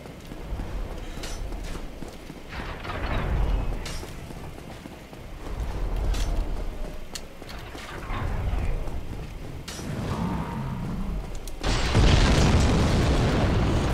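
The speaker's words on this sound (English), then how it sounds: "he can throw fire bombs" Fire bombs burst in Dark Souls, several muffled booms spaced a few seconds apart amid footsteps and game ambience, ending in a louder, sustained blast of crackling noise.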